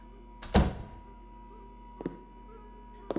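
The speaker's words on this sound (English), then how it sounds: "I'm going to close this door behind you" An interior door at home is swung shut with one solid thunk, followed by two fainter knocks or clicks, over a quiet low hum.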